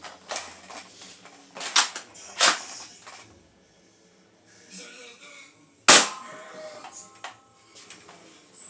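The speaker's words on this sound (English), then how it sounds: "here we go with first shot with the Dart Zone Ballistic Powerball Blaster." A Dart Zone Balistix Ops ball blaster fires its first shot, a sharp loud crack near the end preceded by handling clicks and rattles close by.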